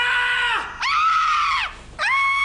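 A man screams with joy in a loud, close, high-pitched burst for a Zalando sportswear ad, three long strained shrieks separated by brief breaths.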